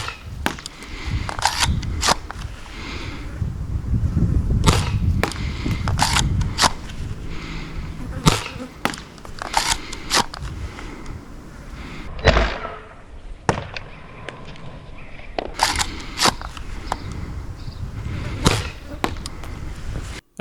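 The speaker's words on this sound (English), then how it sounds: "So now, let's test the accuracy of my modified S200S." A modified S200S gun fires at a target 20 meters away, making a series of sharp, close cracks at irregular intervals over low background rumble.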